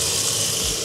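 Tap water runs steadily from a kitchen faucet in Helsinki, a close, even broadband rush with no voices over it.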